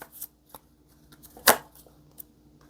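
A tarot card drawn from a deck: soft scattered card rustles and taps, with one crisp louder snap of the card being pulled out midway, close and without talk.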